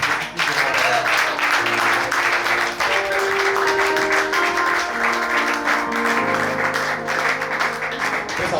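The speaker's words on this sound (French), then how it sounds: "Est-ce qu'on peut acclamer puissamment pour Jésus" A church congregation applauds and cheers for Jesus, a dense continuous wash of clapping and shouting that holds steady and loud throughout, with sustained tonal voices or music threading underneath.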